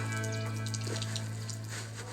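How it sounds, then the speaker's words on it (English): Steady water gushing from a well spigot into a 5-gallon drum, a constant close rushing splash with a low hum throughout. "It took me about a minute to fill this 5-gallon drum"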